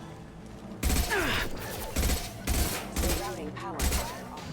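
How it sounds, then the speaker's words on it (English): Gunfire in the video game Mass Effect 2, heavy bursts of shots arriving in four or five clustered volleys over a low rumbling backdrop, loud and close, with a brief spoken line in the game. "I still hear more shooting."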